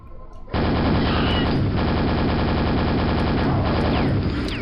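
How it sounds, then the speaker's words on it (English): The super nailgun fires in the video game Quake, a loud, dense, continuous rapid stream of shots for several seconds after a brief quieter lead-in. "Super nail gun, alright."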